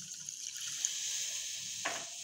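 Half a cup of water pours into a pan of sugar for orange squash, a steady hissing trickle that runs throughout and then shifts with a brief splash near the end.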